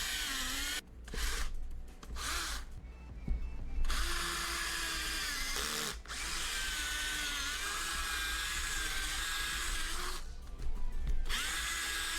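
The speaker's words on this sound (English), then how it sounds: "I'm gonna drill into it so I can set the bolt" Power drill boring into wood to set a bolt, whining in several short bursts at first, then running in one long steady stretch, with a pause and a last burst near the end, close up and without speech.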